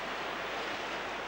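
Sea surf rolls in and out as a continuous, fairly loud wash of noise, with a little wind and no voices.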